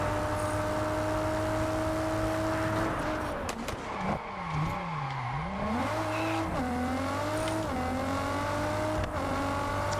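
Race car engine in Test Drive Unlimited Solar Crown, droning steadily with clear harmonic tones that dip and climb as the car shifts and revs, loud and continuous throughout a weekly event race.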